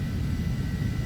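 A simulated aircraft engine in the flight game FSX, running at maximum throttle during a climb, gives a steady, dense roar with low rumble and broadband hiss, continuous and even throughout, with no voices.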